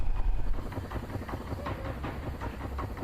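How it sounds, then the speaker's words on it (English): Twitch hype train alert effect: a steady chugging train rumble with rhythmic clickety-clack and steam-like hiss, moderately loud and continuous throughout, with no voices over it. "I don't know why a hype train triggered."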